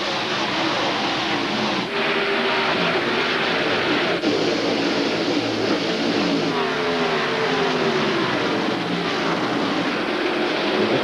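NASCAR Winston Cup race cars in the 1998 Coca-Cola 600 at Charlotte Motor Speedway roar into the first turn on the green flag, a loud continuous engine drone swelling as the pack passes, with no talk.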